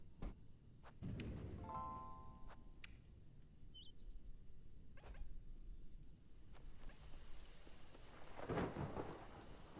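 Steady rain in the video game Little Goody Two Shoes, a continuous wash of falling drops on surfaces with rolls of thunder rumbling through, plus a few faint chirps and tones over the downpour.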